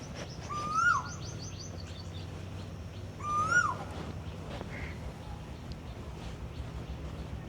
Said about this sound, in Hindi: ये देखो कोयल भी बोल रही है भाई